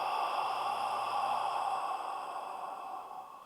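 A single long, soft exhalation during a breathing exercise, close and airy, tapering off over about three seconds with no talk.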